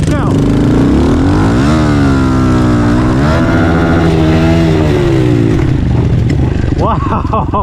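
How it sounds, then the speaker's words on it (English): A stock TTR 110 and a 147cc big-bore CRF pit bike race side by side, their loud engines revving and rising in pitch through gear changes, with voices talking over the roar. "We got a stock TTR 110 versus the CRF 147."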